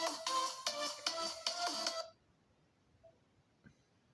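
Incoming phone call ringing: about two seconds of loud, rhythmic electronic ringtone pulses in quick repeated bursts, then it cuts off abruptly into near silence with a faint click.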